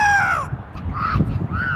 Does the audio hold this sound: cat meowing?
no